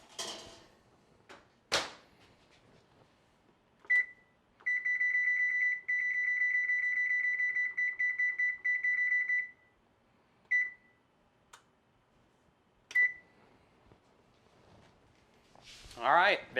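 An oven control panel beeps as temperature and timer are set: a few short beeps, then a steady train of rapid beeps lasting several seconds, followed by more single beeps, close and clear in a quiet room.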